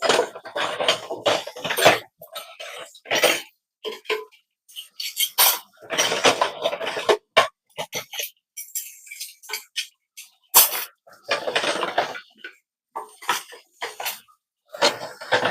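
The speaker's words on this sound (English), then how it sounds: "So I'm going to put my forks and spoon in it." Metal forks and spoons clatter into a cutlery container in a home kitchen during dishwashing, in a string of close, irregular clinks and rattles separated by brief pauses.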